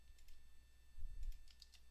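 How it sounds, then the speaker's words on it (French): Computer keyboard keys pressed for a Ctrl-C copy command while editing a music score: a handful of soft, close, faint clicks spaced irregularly over a low steady hum, with no talking. "Je fais CTRL-C."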